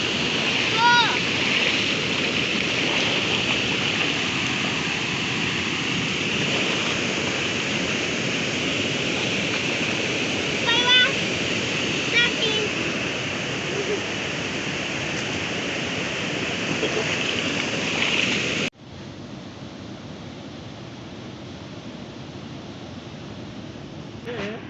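A waterfall at ASFRAMA on the BR-174 highway rushes in a broad, steady roar close by, with brief voices breaking through now and then before the sound suddenly drops to a quieter, duller wash.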